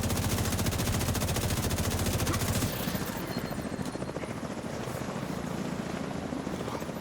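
A video game helicopter's rotor thumps loudly and steadily throughout, with rapid machine-gun fire layered over it during the first part before easing into a continuous engine roar.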